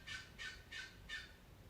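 Birds calling nearby, four evenly spaced, faint squawking or gobbling calls in quick succession with nothing else heard.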